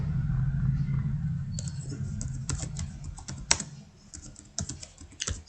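Computer keyboard typing during data entry in Tally Prime accounting software, with rapid irregular key clicks in close bursts over a steady low hum, no voice.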